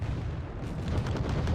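Missiles launching and firing in the Cold War strategy game Wargame: Red Dragon, a dense rumbling barrage of booms and sharp cracks, loud and sustained throughout with no speech.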